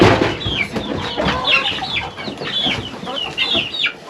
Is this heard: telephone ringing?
no